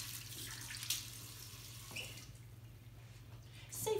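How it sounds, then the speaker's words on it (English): A kitchen tap running while hands are washed, a faint continuous stream with a few small splashes and clicks, close and quiet over a low background hum. "Get our hands washed."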